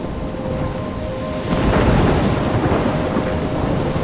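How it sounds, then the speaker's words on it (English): Heavy rain pours steadily during a thunderstorm in the video game Life is Strange, with a deep thunder rumble swelling midway and lingering under the dense hiss. No speech. "I'm trapped in a storm?"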